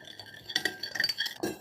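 A sauce of sunflower oil, sugar, ground ginger and pepper is stirred in a bowl for a Chinese-style pork chop recipe, with close clinking and scraping of a utensil against the dish, continuous and fairly quiet, no talk.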